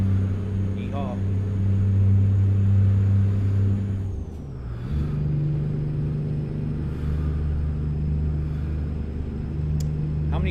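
Truck in American Truck Simulator set with an 18-speed transmission, a loud steady low engine drone that drops briefly as if shifting gears, then settles into a lower hum, with a high faint whine above.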